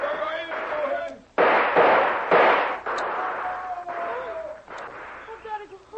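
Loud, close gunshots sound in a jungle firefight from an old-time radio drama, several sharp blasts in a row over crackling background noise and a faint tone.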